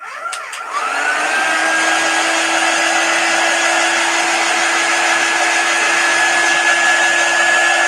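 A hair dryer switches on and runs steadily, drying a chalk craft piece, with a loud, close, constant whirring blow and a faint high whine throughout.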